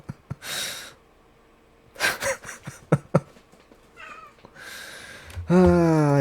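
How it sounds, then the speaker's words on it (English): A pet cat gives a clear drawn-out meow near the end, after scattered soft breathy bursts and clicks close to the microphone in a quiet room. "Yeah, that's my cat."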